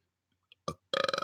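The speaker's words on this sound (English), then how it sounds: "I'd burp like that if I drink a lot of carbonated water" A single close, loud, throaty burp with a rattling texture, preceded by a couple of faint clicks and a short breathy burst.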